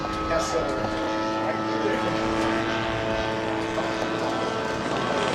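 A large Stinson radio-controlled model aircraft flies past on a low pass with a wing wave, its engine drone loud and steady, with some background speech from spectators.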